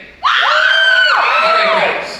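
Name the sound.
audience screaming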